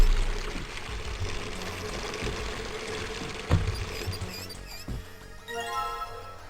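Shower water pours steadily into a bucket placed under the showerhead in the 999 video game, a continuous splashing stream with a few louder knocks and plinks toward the end.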